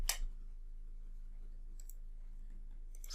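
A computer mouse clicks while a cell is selected in an Excel spreadsheet, one crisp close click at the start and fainter ticks later, over a quiet low hum with no talking.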